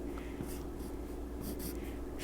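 Pen or marker drawing fish on sheets of paper, with faint scratchy strokes repeating in short bursts over a low steady hum, quiet and close.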